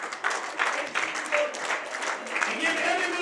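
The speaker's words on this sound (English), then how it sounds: "Give yourselves a round of applause" Applause from a crowd at an indoor professional wrestling show honoring the tag teams, steady dense clapping that fills the space. Someone talks over it on a microphone.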